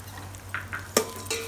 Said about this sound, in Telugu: పప్పు సేమియా వేయించుకుందాం.